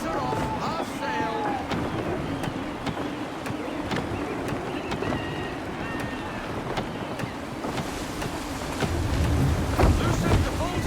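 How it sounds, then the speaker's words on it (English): Gusty wind roars steadily across the open sea around a sailing ship in Assassin's Creed III, with a low churn of water and creaking rigging, swelling louder near the end, while a voice speaks over it. "Gusty winds can be difficult to manage"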